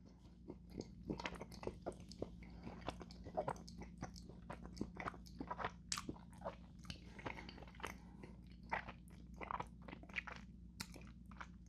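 Close, quiet biting and chewing of Cadbury Creme Eggs, comparing US and UK versions, with soft crunches and wet mastication in an irregular rhythm and no talking.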